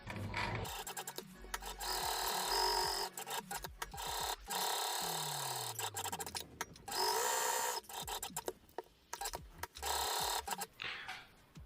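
A sewing machine runs a back-stitch to close the seam of a double-layer fabric face mask, with bursts of rapid mechanical stitching, short pauses and handling clicks between runs, close and fairly loud.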